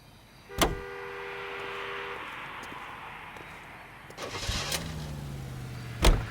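In the 1940s crime game L.A. Noire, a car door thumps, the engine cranks and catches, then settles into a low idle and pulls away, with another sharp door clunk near the end.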